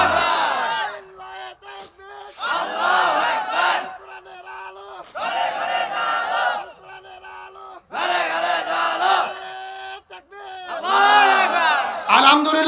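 A large crowd at a rally shouts takbir and slogans in loud, reverberant bursts, about five chanted waves separated by brief pauses, with a lone voice leading between them.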